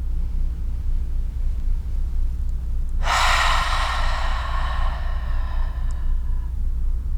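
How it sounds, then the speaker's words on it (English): A slow yoga breath, drawn in through the nose and let out through the mouth, as one long close, loud breathy exhale that rises suddenly and fades over a few seconds against a low steady hum. "Inhale through your nose to warm and purify your breath. Exhale mouth or nose."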